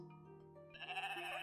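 Goats bleating in the Equilinox game, a quiet nasal bleat rising into a brighter wavering call near the end, short and alone.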